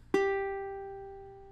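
A single plucked open G string on a ukulele rings out clearly, a bright clean note that slowly fades over a second and a half, alone and close.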